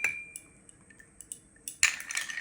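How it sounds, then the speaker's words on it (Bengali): Ice cubes dropped into a rose milkshake, a few light clinks and taps followed by a brighter clatter of ice against the glass or utensil near the end, close and fairly clear, with no talking. "এখানে আমি আইস বার দিয়ে দিচ্ছি"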